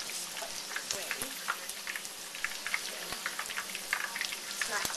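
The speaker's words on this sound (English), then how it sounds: "coat the meat, whichever meat or fish you're using, and deep fry it" Thin coated chicken katsu deep-fries in hot oil, giving a steady crackling sizzle with scattered pops that runs throughout, close and moderately loud, with no voices.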